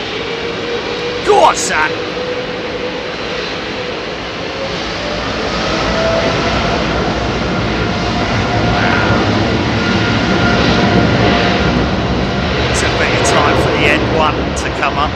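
British Airways jet engines powering up at Heathrow Airport, a broad roar swelling steadily and holding loud at a distance, with a brief spoken remark near the start.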